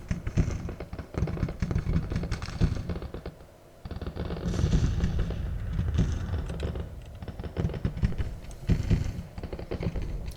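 Artillery fire in the Civil War strategy game Grand Tactician: Civil War, a dense clatter of booms and crackling shots rolling on and off with a short pause partway through, no voices over it.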